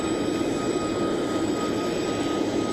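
Steady, broad roar of the Vice President's plane arriving at Maxwell Air Force Base, a continuous jet engine rumble holding at an even, fairly loud level with no voices.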